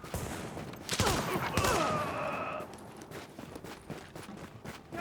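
Rapid gunfire in a video game, a dense cluster of shots near the start that thins into scattered pops over background game sound.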